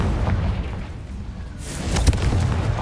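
A Confringo spell explosion in Hogwarts Legacy, a deep booming blast with a sharp burst that rumbles under ongoing combat noise.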